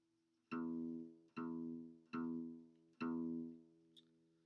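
A guitar pick strikes down on the low E string four times in a slow, even count, each note ringing out and decaying before the next, close and clean with no other sound.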